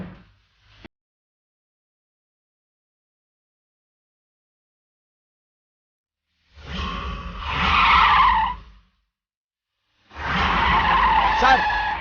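A car tears past at speed during a chase, two loud surging bursts of engine roar with skidding tyre squeal, separated by silence after a brief opening noise.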